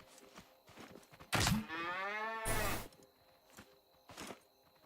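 A cow in the video game Scrap Mechanic lets out a single long, loud moo in the middle, with soft thuds and game noise before and after.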